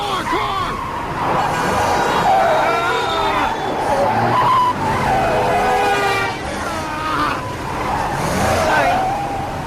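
A car drives fast and its tyres screech in repeated long skids, loud and close. An engine roars underneath, and voices talk over the driving in a tense scene from a TV show.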